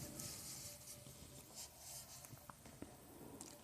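A pen scratches on paper during a tenth-grade math lesson, making faint, close strokes and scribbles over a low room hiss, with no voice heard.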